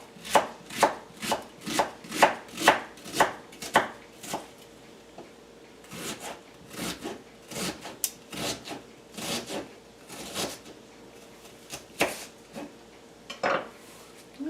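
A knife chops bruschetta ingredients on a cutting board in quick rhythmic bursts of sharp, close knocks, pausing and resuming, with no talking.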